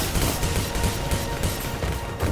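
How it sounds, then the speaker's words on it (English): Flak guns firing in the space combat game Star Conflict, a dense, sustained barrage of bursts and booms that fills the whole stretch without a break. "I want to fire my flak and get the heck out of here"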